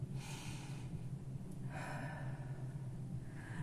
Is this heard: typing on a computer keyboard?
no